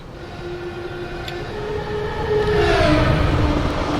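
A Class 37 diesel locomotive in the game Diesel Railcar Sim rumbles past with a steady engine drone and tonal whine, growing louder toward the end as the pass-by swells, with no talking.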